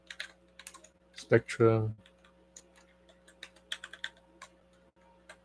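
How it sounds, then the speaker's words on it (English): Rapid clicking of keys on a computer keyboard, close and crisp, in quick irregular bursts, with a short spoken word partway through. "Let's type in Ultraman"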